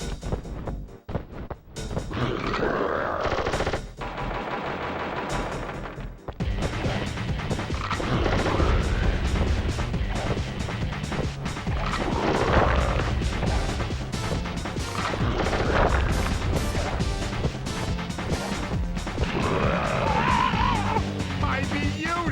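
Sly Cooper video game combat plays out with repeated crashes, smashes and gunfire bursts over a steady background soundtrack, with brief pauses early on and loud impacts recurring throughout.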